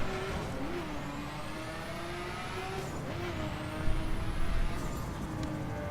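An engine drones steadily from a car driven in the racing video game The Crew. The pitch rises and shifts with gear changes, and a few rougher revs come near the end. The sound is loud and continuous, with no talking.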